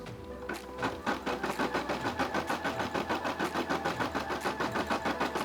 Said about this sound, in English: press the button so you guys can see it stitch out the feet